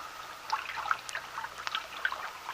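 A small brook rambling along the foot of a little hill at the bottom of a garden, staged as a radio drama effect: a steady, light trickling and babbling of water with scattered bright splashes, fairly quiet and alone with no talk.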